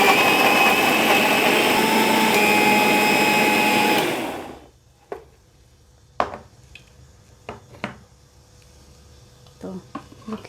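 Electric mixer grinder whirring loudly and continuously as it grinds tomatoes into a masala paste, then cutting off and winding down, followed by quiet clinks and handling sounds.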